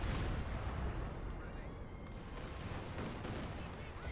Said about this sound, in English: second Katyusha takes out the Pak 40